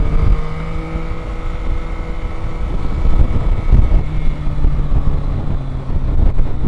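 A 2022 Yamaha Tracer 9 GT motorcycle on the move, its engine a steady droning hum under heavy wind rush, loud and continuous throughout.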